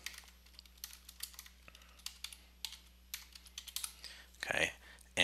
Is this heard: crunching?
no